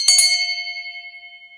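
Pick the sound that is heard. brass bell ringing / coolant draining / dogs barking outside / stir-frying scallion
brass bell ringing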